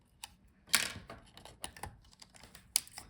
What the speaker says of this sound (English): Gently disconnect the antenna wires.